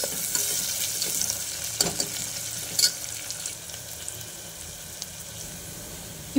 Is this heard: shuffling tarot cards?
no